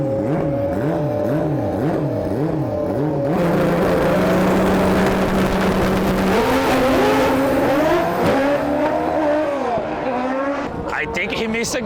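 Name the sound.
drag bike accelerating down the strip, popping wheelies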